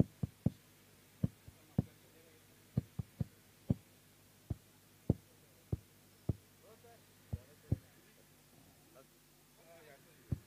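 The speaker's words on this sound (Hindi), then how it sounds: "आवाज, धड़कने का आवाज।" Heartbeat effect during a third umpire review at a Vangaon Premier League cricket match, slow irregular low thumps, often in pairs, throbbing throughout with faint background murmur.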